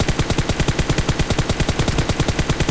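Rapid full-auto gunfire in PUBG Mobile, a steady fast stream of loud, evenly spaced shots lasting the whole stretch.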